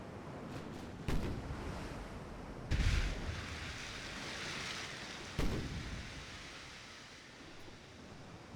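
Naval artillery fire in a battle game set during a typhoon, with three heavy booming shots spaced a few seconds apart over a steady roar of wind and surf.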